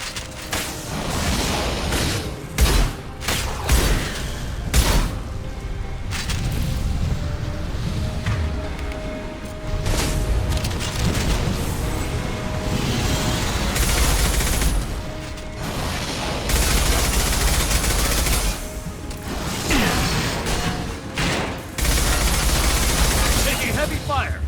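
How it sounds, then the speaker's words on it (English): Heavy gunfire in Mass Effect 2, a long stretch of sharp shots and automatic bursts with mechanical clanks and booms, loud and near, with voices talking over parts of it. "Taking heavy fire."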